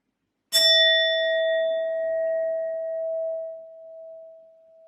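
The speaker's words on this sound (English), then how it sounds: "I will be using my sound bowl as always to clear and set the energy" A sound bowl struck once, giving a sharp clear strike followed by a long, steady ringing tone that slowly fades over several seconds, heard alone.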